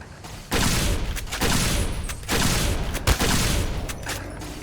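Rifle fire in Fallout: New Vegas, sustained loud bursts of rapid shots in several close, heavy stretches separated by brief gaps, with no voices.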